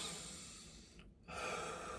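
A short run of breathing, with a soft rush of air, a brief pause, then another full exhale. The breaths are deep and come from the stomach.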